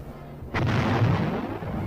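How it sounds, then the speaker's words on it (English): A tank gun fires on communist positions along a ridge, a single heavy boom followed by a rumbling roll of noise that lingers over steady background din. "The tanks move up to new positions nearer the ridge and continue to blast away at the communist emplacements."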